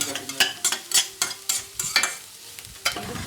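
Onions sauté in a pan for a home-cooked Sunday lunch, with a spoon scraping and stirring in quick irregular strokes over a soft sizzle, close and loud, no talking.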